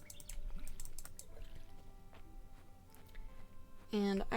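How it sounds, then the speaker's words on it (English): Soft clicks and light splashing as crops are watered in the Fields of Mistria farming game, with a bright chime near the end and a speaking voice over it. "Just gonna water these bad boys."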